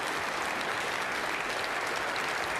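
Steady, dense applause from a snooker crowd at the 2023 British Open final, a continuous close wash of clapping that holds at an even level for the whole stretch with no talk over it.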